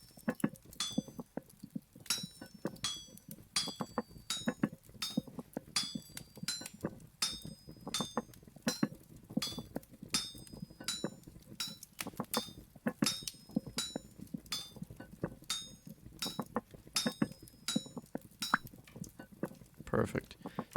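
Repeated metallic tapping of a hammer on a chisel while chopping blocks in the survival game Vintage Story, a steady string of bright clinks over soft background music, with a voice talking at times.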